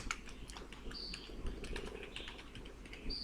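Typing on a computer keyboard while entering a number in a Microsoft Word quotation document, a steady run of light key clicks close to the mic over a low background hum.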